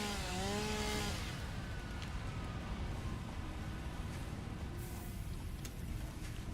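A chainsaw in the video game Satisfactory cuts down trees with a steady, loud motor buzz that starts with a rising whine and holds for several seconds.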